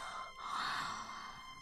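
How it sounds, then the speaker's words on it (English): A drawn-out yawn voiced by a visual novel character, a breathy, rising and falling exhalation of about a second and a half, quiet and close, with no talk over it. "You keep yawning."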